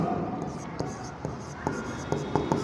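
A pen writes credit entries on paper or a board while a teacher explains accounting, producing short scratchy strokes and taps under steady speech.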